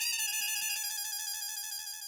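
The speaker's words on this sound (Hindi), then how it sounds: "हो सकता है इस बार उनके मोबाइल में रिंग बजे" A mobile phone ringtone plays alone, a bright electronic melody with steady tonal pulses, clear and moderately close, fading slightly toward the end.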